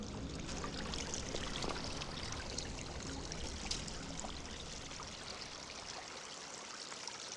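A freshwater stream trickles and splashes steadily at close range outdoors in Norway, a continuous broadband wash of flowing water with no voices.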